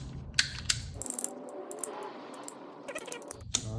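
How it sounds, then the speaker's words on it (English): A pipe cutter works on a hydraulic line pipe, giving metallic clicks and rattles, a brief scraping whir in the middle, and sharp ticks at the ends, close and fairly quiet. "it'll cut the pipe nice and clean like we're looking for"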